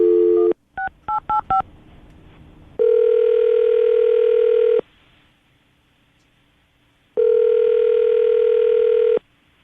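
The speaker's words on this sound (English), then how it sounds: "I'm going to dial the phone number right now." A telephone with a brief dial tone, then a quick run of keypad dialing beeps, followed by two long, steady ringing tones separated by a pause.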